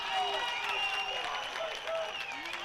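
Soccer fans in the stands applaud a yellow card at an evening college match, a steady wash of clapping and crowd noise carrying on throughout at moderate distance.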